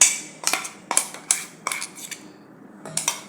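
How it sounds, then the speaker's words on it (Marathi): Ground green pea paste for dosa batter is scooped from a grinder jar into a bowl, producing about eight close, sharp metallic clinks and knocks of a spoon against the vessels in an irregular rhythm. "हे एका भांड्यात काढून घेऊया"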